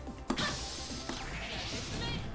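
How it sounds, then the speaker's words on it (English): A loud glass-shattering crash marks a guard break in the fighting game Yatagarasu, followed by a sustained ringing, crackling tail of breaking shards. "you hear this glass shattering sound effect"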